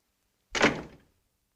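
A door shuts with a single close, solid thunk, sharp at the start and then fading quickly into silence.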